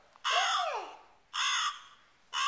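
A crow caws in two loud, harsh calls close by, with the start of a third at the end and short quiet gaps between them.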